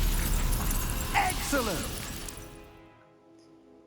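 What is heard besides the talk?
ice shattering from basic cast spell in Hogwarts Legacy video game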